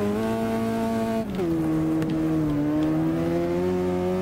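A race car in the video game Wreckfest holds a steady high engine drone, drops pitch briefly at a gear change, then climbs again while tires scrabble for traction, loud and close with no talking.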